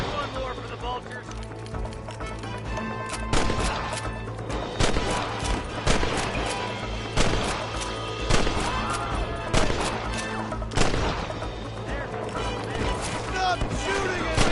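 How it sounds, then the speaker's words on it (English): Rapid bursts of gunfire crack through a Red Dead Redemption Remaster shootout, loud irregular volleys and sharp reports layered over steady background noise, with voices shouting among the shots. "Stop shooting at me!"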